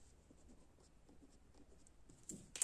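A pen scratches across paper during an accounting lesson, faint rhythmic strokes close by, ending in a couple of sharper taps.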